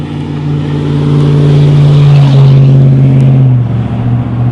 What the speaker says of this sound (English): Truck sounded good.